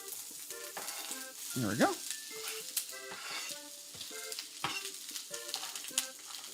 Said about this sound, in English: we got the oil in. We're gonna go add our onions.